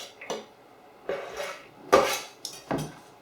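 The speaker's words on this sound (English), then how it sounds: "So there's our chopped cabbage, and that's just going to go into the bowl like that." Chopped cabbage is tipped into a bowl in a few separate clattering bursts. Each bump and rattle of dish and utensil is close and clear, with quiet pauses between them.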